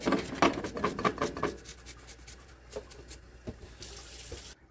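Tap water running into a glass kombucha jar: a steady splashing stream with clattering jar contact early on, softening into a quieter trickle with a few isolated knocks before it stops abruptly.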